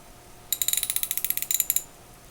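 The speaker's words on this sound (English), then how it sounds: "And this one surprisingly still ratchets. It's a little tight, but it's still ratcheting." A vintage Craftsman 3/8-inch drive ratchet, heavily pitted and a little tight, clicks in a quick run of about twenty crisp, close ticks lasting just over a second in a quiet room.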